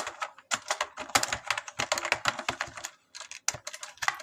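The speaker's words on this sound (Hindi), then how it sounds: "यहाँ पर मैं टाइप कर देता हूँ thank you for your business" Rapid typing on a computer keyboard while entering text into an Excel invoice, close and crisp key clicks in quick irregular bursts with one brief pause midway, no voices.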